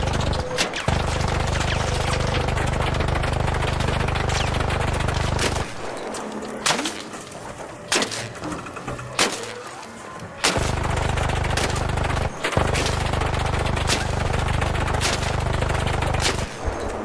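Gunfire in the video game ARC Raiders: sustained loud bursts of shots over a steady low rumble, broken by a quieter stretch of sparser single cracks and thuds before heavy firing resumes.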